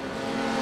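Formula 4 race cars in an iRacing pack run nose to tail at Oschersleben, engines droning steadily and loud in a continuous high whine.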